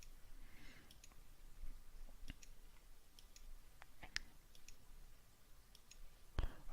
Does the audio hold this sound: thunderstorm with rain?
no